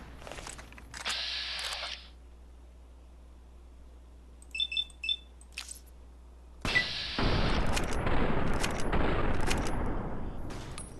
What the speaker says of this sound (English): time to pull out, gonna go with my cowboy repeater